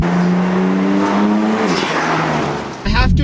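A tuned BMW M4 with a Burger Stage 1 tune accelerating hard, its engine droning loudly with rising harmonics and a sharp burst of revving and exhaust crackle at the end.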